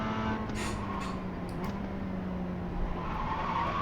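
Tires skid and squeal under hard braking in the iRacing sim, a sustained tonal whine over a steady engine drone that fades and then rises again near the end.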